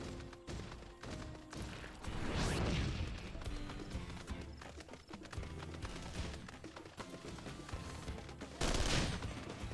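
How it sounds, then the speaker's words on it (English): Rapid bursts of gunfire rattle through a Final Fantasy XIV battle aimed at the player, dense overlapping shots running the whole stretch with swells of louder volleys mixed among other game effects. "Please stop shooting at me."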